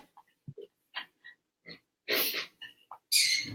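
A pig oinks and grunts in short bursts, close by and quiet, with a couple of longer, breathy squeals toward the end and silence between calls.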